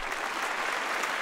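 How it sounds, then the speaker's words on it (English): Light applause from a small audience during a stock market discussion show, a steady patter of clapping holding at an even level for just over a second with no talk over it. "Light applause."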